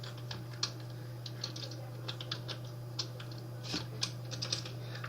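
A username is typed on a computer keyboard in quick, light key clicks, close and steady, over a constant low electrical hum and no talking.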